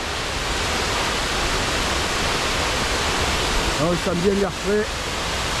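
Steady rushing roar of water pouring over a spillway below a small reservoir on a Norwegian hike, a constant broadband wash throughout, with a voice speaking briefly over it near the end.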